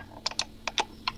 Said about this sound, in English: I'm going to hold down the Control key on my keyboard to multi-select some pictures